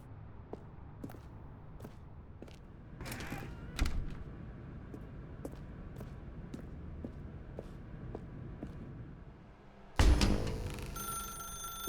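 In The Stanley Parable, a telephone rings in faint, evenly repeated short bursts against a quiet room tone, broken by a louder thump near the middle and a sharp, loud clatter toward the end.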